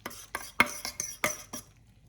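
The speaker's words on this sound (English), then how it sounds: "Give it a quick mix in the middle" Eggs get mixed in a pan on low heat, and a utensil scrapes and taps against it in about seven quick, rhythmic strokes, close and moderately loud with no talking.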